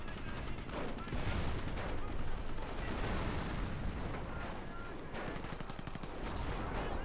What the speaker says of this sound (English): More rocket fire here.